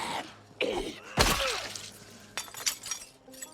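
Window glass shatters in the zombie survival game Project Zomboid, a loud sharp crash followed by scattered tinkling shards and a few smaller clinks, with no talking.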